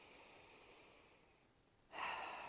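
A slow, deep breath drawn in and let out, soft airy whooshing close to the listener in a quiet room, with the second breath sharper and louder after a brief pause.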